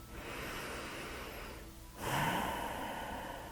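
A single deep breath drawn in slowly and quietly, then a stronger breath around the midpoint, close and soft against a calm, hushed background.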